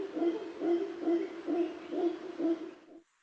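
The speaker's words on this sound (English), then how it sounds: "Now, those are howler monkeys calling in the background." Howler monkeys calling in Panama's cloud forest, a rhythmic series of about six low, hooting pulses in steady succession, moderately distant and faint, ending abruptly.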